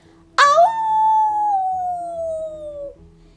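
A person imitates a wolf howl in a children's read-aloud, one long sustained howl that begins sharply and slowly falls in pitch, loud and close, with no other sound.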